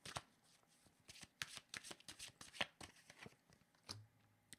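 Tarot cards shuffled by hand at close range, a steady run of crisp riffling and slapping bursts with brief pauses between, ending in a short low thud.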